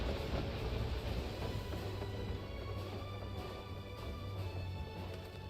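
A steam train engine in Final Fantasy XIV runs as a steady, continuous low rumble and mechanical churn with a faint high whine, holding an even level throughout with no talk.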